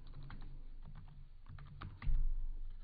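Keystrokes clatter on a computer keyboard while Kotlin code is entered, a steady stream of quick clicks with a louder, heavier burst of taps near the end.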